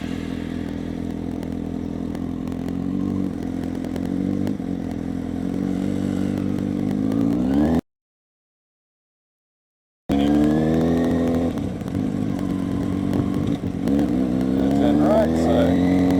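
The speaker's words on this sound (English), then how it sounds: "Just so it's easier for the bike to take off up the hill." A motorcycle pulls away on a hill start during a riding lesson, its engine note rising and steady under close wind rumble, cutting out briefly in the middle before resuming with climbing revs.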